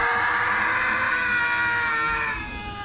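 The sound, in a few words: screaming in a Halo Reach video game machinima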